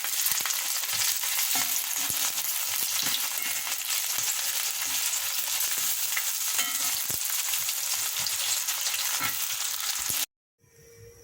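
Loud, steady sizzling of cornmeal-coated eggplant pieces frying in a pot, with occasional scraping stirs, continuous and close before cutting off abruptly near the end.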